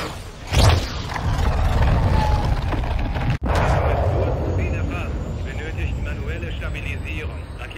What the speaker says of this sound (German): Rakete ist unterwegs.